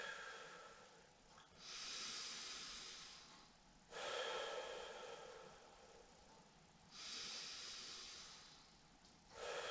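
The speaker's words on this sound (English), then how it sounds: "I like to inhale through the nose, exhale through the mouth" Slow deep breaths, inhaling through the nose and exhaling through the mouth, three long airy breath cycles that rise and fade, close and soft, with no talking.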